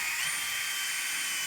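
Power drill with a countersink bit boring pilot holes into wood inside a cargo trailer conversion, a continuous high-pitched whine held steadily at close range, no voices.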